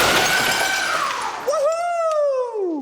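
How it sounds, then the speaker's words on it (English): A thick pane of glass is smashed by a powerful throwing machine, a loud broad crash and scattering shatter, quickly followed by excited whooping voices. "Instead of throwing the glass, the machine smashed it to smithereens."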